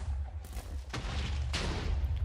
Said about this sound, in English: That was a nicely timed cannon that destroyed that wall.